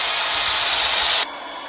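A machine mixes jeevamrutham liquid fertiliser in a tank, giving a loud, steady whirring rush that drops abruptly to a quieter level near the end.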